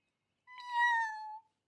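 A single cartoon cat meows once, clear and close, lasting about a second in an animated Robocar Poli scene, with no talking over it.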